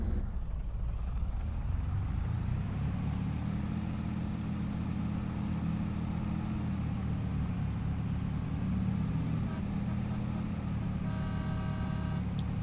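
A truck in Farming Simulator 22 rumbles along at an even low drone, steady engine hum with slight pitch rise mid-way and a faint mechanical whine, alone throughout.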